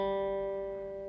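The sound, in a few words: guitar down pick on the G string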